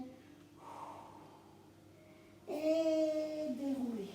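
Breathing during a Pilates stretch: a soft audible inhale followed by a longer, louder exhale with a voiced sigh, close and quiet in a calm room.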